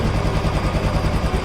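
A Royal Enfield Classic 350 BS6 motorcycle with fuel injection revving at higher RPM. The engine runs loud and close as a dense, rapid, pulsing exhaust roar with no pauses.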